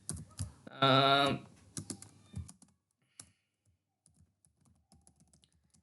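A computer keyboard clatters in a quick run of keystrokes while someone writes Java code. Scattered clicks follow, and a person briefly murmurs over the typing.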